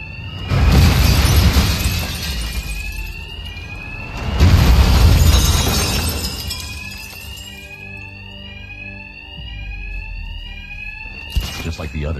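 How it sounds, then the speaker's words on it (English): Bank alarms ring in the Batman Arkham Knight game, a steady electronic warble running through the scene behind two loud crashing bursts near the start. "these thugs can't hear a thing over the alarms"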